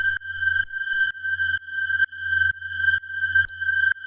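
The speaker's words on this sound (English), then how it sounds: "Then we have this drone." A synthesizer drone holds the single note G in a dark atmospheric techno track, pulsing in a steady, even rhythm of bright, loud, repeated tones.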